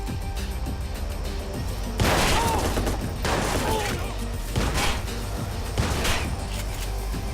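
Bursts of gunfire in the video game Watch Dogs, with rapid volleys and sharp cracks against a low ambient bed, moderately loud, with a voice talking faintly at times.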